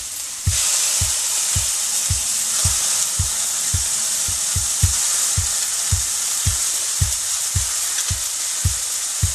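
Peas and paste sizzle loudly in a frying pan, a steady bright hiss throughout, with regular low thumps of stirring or tapping about every half second underneath.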